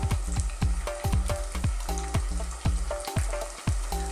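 Banana plantains frying in plenty of oil over medium heat with brown sugar for Filipino banana cue: loud, close sizzling with rhythmic crackling pops and bubbling, no voices.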